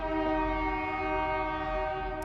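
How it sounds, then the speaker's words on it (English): A train horn blares loud and steady throughout, a sustained multi-tone chord from an approaching train, with a low rumble of rail traffic beneath and no one speaking. "That means the train's coming."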